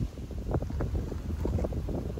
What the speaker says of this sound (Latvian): Droši vien to jūs arī kamerā dzirdat, ka tur nedaudz pūš.